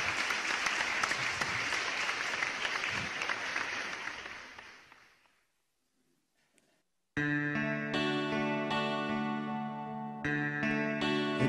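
Italian TV music show studio audience applauds steadily for several seconds, dense and even, then fades to silence before music begins.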